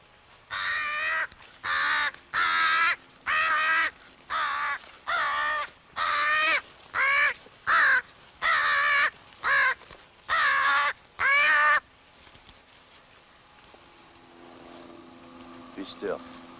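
An injured crow with a broken wing bone caws loudly and harshly in a fast series of a dozen evenly spaced calls, close by, then falls quiet under a faint low engine hum.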